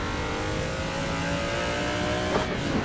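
A car engine in Assetto Corsa roars steadily while drifting through turns, loud and sustained, with a slight shift in pitch near the end and no speech.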